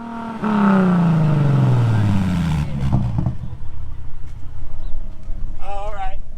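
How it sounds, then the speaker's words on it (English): A car engine revs hard toward red line, then its pitch sweeps down as it winds back off. The engine is close and loud, and voices are heard alongside it. "Yeah, rev it. You can bring it up to red line."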